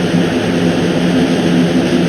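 Hover propellers on a drift bus in the building game Plane Crazy, a steady loud droning whir with a low engine hum, constant and close throughout with no talking.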